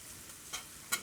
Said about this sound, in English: you're gonna let these fry on both sides until they're golden brown and crispy